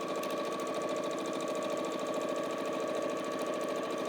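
Home sewing machine stitching quilt blocks together, a steady fast whirring hum with rapid rhythmic needle clatter running continuously at an even speed, close and alone.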